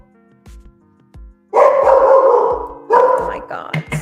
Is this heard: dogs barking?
yes